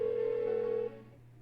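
A telephone in the Persona 4 Golden video game rings with a steady electronic tone, one sustained ring lasting most of a second before cutting off, at moderate volume with no talk.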